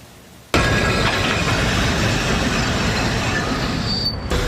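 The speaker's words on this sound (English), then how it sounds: "These freight trains are known as Mookies" An electric freight tram in Budapest running on rails, a loud close rumble that starts abruptly and holds steady with rattling wheel noise and a thin squeal near the end, no voices.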